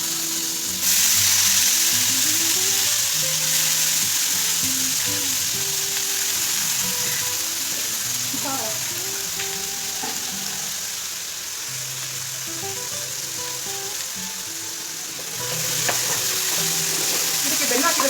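Sliced bitter gourd sizzles steadily in hot tempering oil while being stirred, a continuous loud frying hiss with scraping spoon strokes throughout and no talk.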